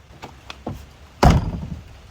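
A few light taps and clicks, then a single solid thunk as the door of a 1964 Ford Thunderbird latches shut, close and loud with a short rattling tail.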